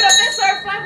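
A Getinge bell rings live at a clinical engineering gathering, giving one brief, bright metallic chime that rings out for under a second.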